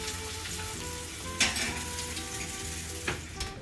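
Salmon fillet searing in a hot pan on one side before going into a 400-degree oven, a steady close sizzle and crackle throughout with a couple of brief utensil clinks.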